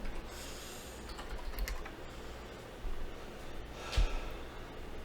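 Keystrokes tap on an unfamiliar new computer keyboard in short irregular bursts, close and fairly quiet, with occasional louder clacks and a soft breath or snort over steady background hiss.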